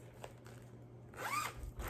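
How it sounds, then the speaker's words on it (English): A zipper on a fabric project bag for cross stitch, pulled once in a quick close rasp after a few faint handling taps, quiet and near, no talk. "There will be zippers."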